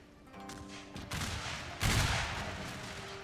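Rank-by-rank musket volleys from redcoat lines in a Total War battle, the crackling bursts rolling out in successive waves with a heavier volley near the middle, moderately loud against a distant battlefield din.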